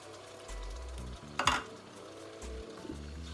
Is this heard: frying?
yes